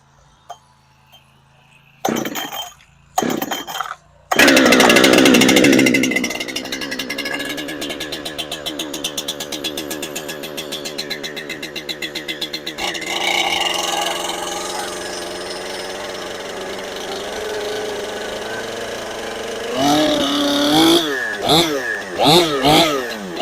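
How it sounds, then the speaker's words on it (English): A brand-new 592 chainsaw is pulled to life after a few short starting bursts, then runs loud and close at a steady high rev with throttle surges near the end, while people talk over it. "Brand new saw breaking her in on this job."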